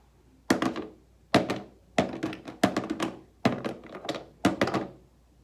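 Crayons dropped one after another into a bucket, six sharp clattering thunks at irregular intervals, each with a brief rattle of wax sticks settling. Close and clear, no voices.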